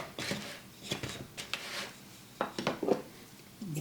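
Seasoned potato wedges are tossed in a bowl, giving irregular soft thuds and scraping clatters close by, in short bursts separated by brief pauses, with no talking.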